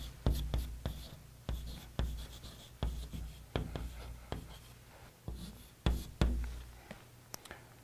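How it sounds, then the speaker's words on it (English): A lecturer writes quickly on a board, making a series of sharp taps and scratchy strokes in irregular bursts, each fading quickly, close and fairly loud in a quiet room. "The reason I write badly on the board is because I try to do it fast"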